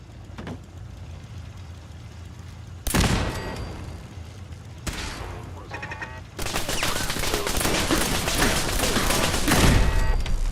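Automated turret gunfire in Fallout 4, bursts of rapid shots starting abruptly, then a long dense continuous volley of loud machine-gun fire close by, with rumbling background noise throughout.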